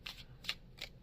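Tarot cards shuffled in three quick crisp riffling bursts, close and fairly clear, with no talk over them.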